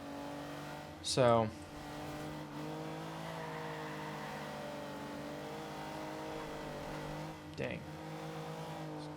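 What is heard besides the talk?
race car engines from the video game Forza Horizon 2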